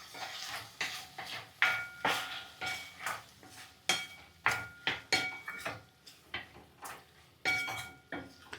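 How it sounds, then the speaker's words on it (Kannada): A spoon stirring ridge gourd and moong dal curry with tomato in a pan, giving a steady run of close, sharp clinks and scrapes against the metal, roughly two per second. "ಆಮೇಲೆ ಒಂದ್ಸತಿ ಚೆನ್ನಾಗಿ ಗೂರಾಡ್ರಿ ಹಂಗೆ."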